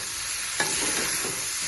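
Chopped tomatoes drop into a hot pan for Nepali tomato and onion pickle, setting off a steady loud sizzle with a brief clatter as they go in, and no voices.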